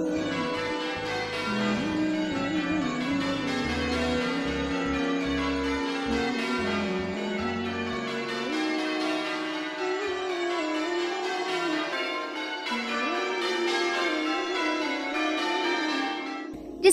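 Church bells ring out as a call to prayer, a dense, steady peal of overlapping tolls that rings on loudly and continuously without pause, close and alone.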